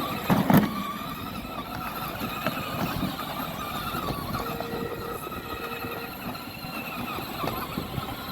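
A children's electric toy car driving along, its motor giving a steady whirring drone with a faint squeal, close and continuous after a brief bump at the start.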